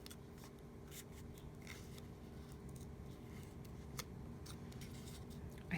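Scissors snipping excess paper off a handmade shaker card, a steady run of quiet close-up clicks and crisp cuts over faint background hiss, with no talking.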